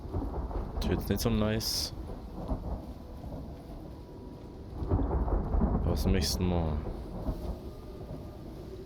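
Rumbling thunder and steady rain from a stormy video game, the broad low roar swelling twice, under someone talking in German.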